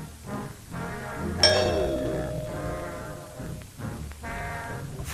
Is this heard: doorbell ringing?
yes